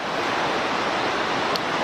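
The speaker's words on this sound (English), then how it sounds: "this wall of water is disgorging a mile's width of water down that little canyon gully gorge" Victoria Falls pours a mile-wide wall of water down into a narrow gorge, heard as a dense, constant roar of rushing water with no breaks and no voices.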